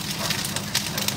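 A strong cooking fire roars steadily on a stove, a broad rushing hiss with faint crackles, close and continuous throughout.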